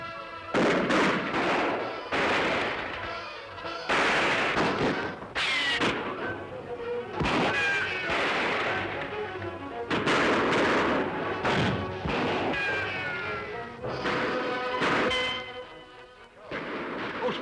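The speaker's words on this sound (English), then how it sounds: "Whoever they are, they're shooting at us." Repeated gunshots from men firing in an Old West chase crack out loud and close, in irregular bursts over about seventeen seconds, with ringing whine-like ricochets between the blasts.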